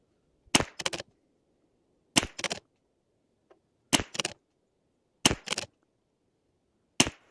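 Five sharp gunshot bursts from a Custom Rim-X and a Venus Pro pistol, each a quick double crack spaced about a second and a half apart, loud and close against a quiet background.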